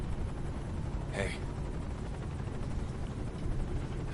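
A helicopter in a video game hums and thrums as a continuous loud drone, with a brief whoosh partway through. Speech runs faintly along with it.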